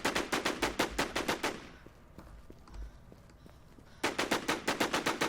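Suppressed gunfire in the zombie shooter DeathmatchZ, a WarZ emulator: two rapid bursts of evenly spaced muffled shots, each lasting over a second, separated by a quieter gap with faint footsteps and movement.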